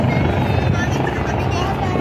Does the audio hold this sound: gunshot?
no